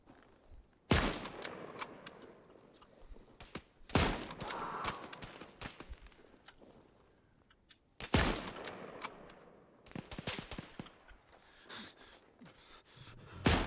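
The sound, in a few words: gunfire while shooting in the Antistasi Ultimate video game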